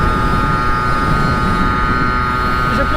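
A motorcycle cruising at about 70 km/h gives a steady, continuous engine drone with a low, rumbling wind roar that stays even and close for the whole stretch.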